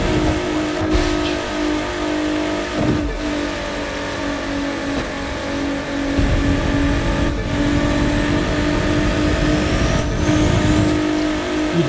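Ford GT engine racing in The Crew 2 at night with no traffic, a loud, sustained drone with shifting tone and brief dips as it shifts gears and changes pace.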